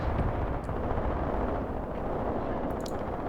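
Artillery shells strike in the Graviteam Tactics war game, a dense continuous rumble of distant blasts with a few sharper pops breaking through, loud and sustained with no talk.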